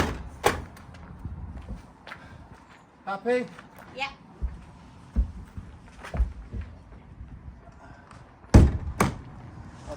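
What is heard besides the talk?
stable door being handled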